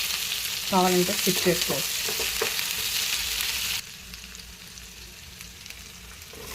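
Ginger garlic paste sizzles steadily in a hot frying pan while an ivy gourd (dondakaya) fry is cooked. The frying hiss stays close and constant, and a voice speaks briefly over it near the start.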